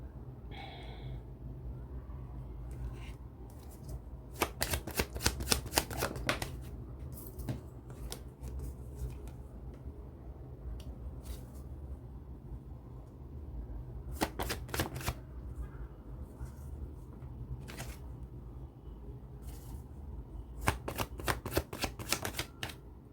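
Tarot cards being shuffled in three riffling bursts, around 4–7 s, 14–15 s and 20–23 s, with quieter handling between them and a low steady background hum.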